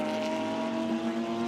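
Race cars, a Ferrari and a Porsche, in the Shanghai 8 Hours endurance race give off a steady, sustained engine drone. The sound carries at a moderate distance, and the note shifts only slightly as they run on.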